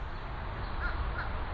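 Two quick caws from a crow carry faintly across a homestead yard, short rasping calls set against a constant low background rumble.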